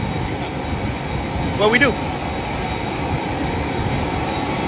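Steady broadband roar of an airplane cabin with jet engine noise filling the background, constant and loud, while people talk over it.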